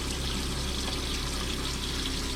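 Water rushing steadily from a plumbing line as trapped air is purged from the hot water pipe, a loud continuous pouring hiss with no talk.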